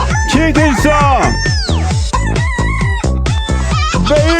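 A novelty song built from chicken clucks and rooster crows, with clucking phrases pitched into a rhythmic melody over a steady beat, loud and continuous throughout.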